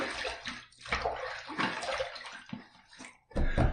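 Water splashes in quick bursts as a face is wetted before a shave with a stainless steel safety razor, several close wet slaps and trickles with short pauses between them.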